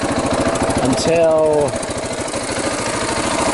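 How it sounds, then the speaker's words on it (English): A 2016 KTM 690 Enduro R single-cylinder motorcycle engine idles steadily while warming up, a close, even thumping putter running throughout, with someone speaking briefly over it. "Alright, engine is warming up."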